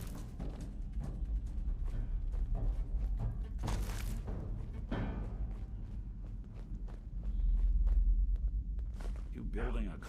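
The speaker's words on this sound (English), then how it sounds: "Dude, I can hear a bunch of footsteps." Footsteps from the video game Fallout 4 patter steadily at a low level beneath a game soundtrack rumble and occasional thuds, with a voice talking over them.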